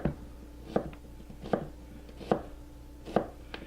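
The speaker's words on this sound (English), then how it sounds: "to quarter this, all I have to do now is make some simple cross cuts" A kitchen knife makes simple cross cuts on a cutting board, five evenly spaced dull thunks close up against a quiet background hum, with no talking.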